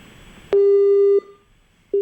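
A steady telephone busy tone cuts in after a failed phone-in call to a farm broadcast: one long beep, a pause, then the start of another, loud and clear over quiet line hiss.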